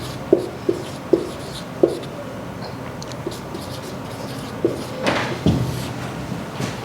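A teacher writing out a calendar reasoning question on a board during a class: sharp tapping strokes in a loose rhythm, followed by scraping, rubbing marks toward the end.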